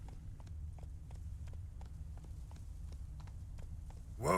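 Hooves of the horse Roach in The Witcher 3 clip-clop in a steady walking rhythm, clear and fairly close over a low ambient hum, with no talk.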